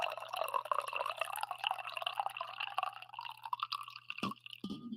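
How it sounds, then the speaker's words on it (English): Coffee is poured into a cup, a continuous soft trickle of liquid rising slightly in pitch as the vessel fills, ending with a couple of small clinks, close and quiet. "it is time for the coffee pour"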